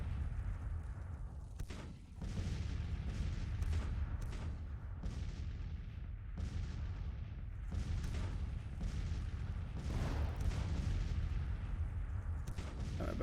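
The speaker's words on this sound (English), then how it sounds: "Battery fire." A Civil War artillery battery in Grand Tactician: The Civil War fires repeated booming shots in an irregular series, some overlapping, over a low rumbling background.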